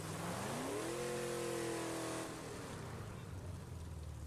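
A summoned car's engine revs up and settles into a steady drone in State of Decay 2, with a rising pitch followed by a sustained hum at moderate distance.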